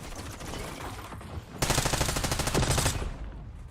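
Video game gunfire: a quieter stretch of distant shots, then a sudden loud burst of rapid automatic fire lasting over a second before trailing off.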